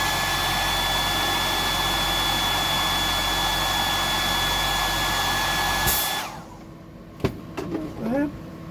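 A hair dryer blows loud and steady, drying a freshly dressed deep-diver fishing lure with bony bream scales, then cuts out abruptly, leaving faint clicks and handling noises.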